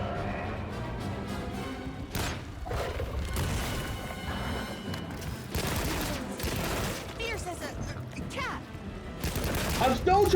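An energy-mode bowgun fires repeatedly with strong recoil in the video game Monster Hunter Wilds. Booming shots and crashing impacts come in bursts over mechanical game noise, with a voice talking throughout.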